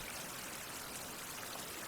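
Water pours steadily into a leather-working tank in a survival video game, a continuous close trickling rush with no pauses and no talk.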